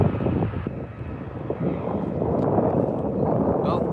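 Airbus A319 taking off at Manchester Airport, a steady roar of jet thrust building in a couple of steps, with wind buffeting the microphone and voices talking over it.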